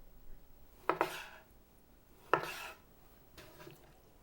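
A knife cuts skinned halibut into 1-inch cubes for fish tacos, giving three separate sharp chops on the board, close and fairly quiet, with short pauses between strokes and no talking.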